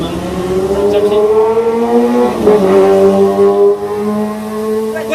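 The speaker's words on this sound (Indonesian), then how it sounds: "Oh iya, ada motor lewat." A motorcycle passes close by, its engine a loud, steady humming drone that shifts in pitch as it goes past, then carries on with a sustained tone. No one speaks.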